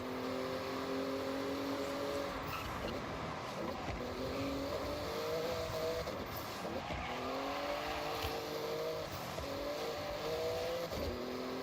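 A Porsche engine revs and accelerates in a Forza Horizon race. It climbs through a run of gear shifts, each one a rising whine followed by a brief dip, under constant road and tire noise. It stays steady and fairly loud, with no voices.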